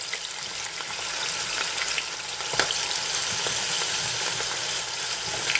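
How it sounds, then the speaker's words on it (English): Fries dumped into a pan of hot oil for WingStop-style fries, giving a steady loud sizzle and bubbling hiss that runs throughout, with faint stirring under it and no talking. "we can go ahead and take our fries and dump our fries in."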